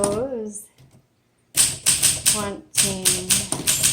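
Keys of a 1958 Olympia SM3 vintage manual typewriter being struck in quick bursts of sharp, close taps. A voice talks at the start and between the taps.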